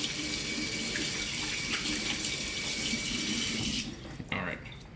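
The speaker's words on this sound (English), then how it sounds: "Wash my hands again so I can handle the brisket rub container here real quick." Tap water gushes steadily into a sink while hands are washed during brisket preparation, a loud continuous rush that cuts off near the end, followed by a couple of faint clatters.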